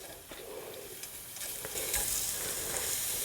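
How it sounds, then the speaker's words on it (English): Crumbled Italian sausage hitting a preheated pot at medium heat, a steady broad sizzle with scattered stirring scrapes, growing slightly louder, alone with no talk. "So I'm gonna go ahead and kind of crumble up the sausage as I put it into my pot here."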